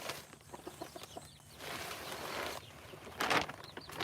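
Chickens cluck and squawk nearby on a farm, with scattered short calls, a scurry of birds running off, and a louder flurry of fowl noise near the end.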